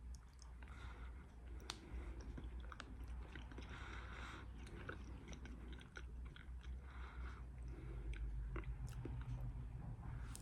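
A black raspberry Lifesaver gummy candy is chewed right at the mic in a steady run of soft, wet squishing and occasional light clicks, quiet and uninterrupted with no talking.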